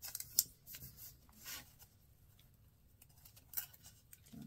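Scissors snipping into folded book pages for book-folding craft, a few quiet scattered cuts and paper rustles at close range, with long near-silent gaps between them.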